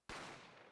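A single sharp gunshot in The Great Ace Attorney video game, loud and close, bursting out of near silence and ringing on with a long, slowly fading tail.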